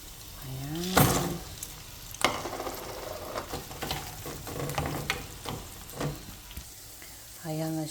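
Frozen green peas tipped into a pan of frying meat, a steady loud sizzle with stirring scrapes and clatter, cooking for pasta with green peas; a voice hums or speaks briefly at the start and end.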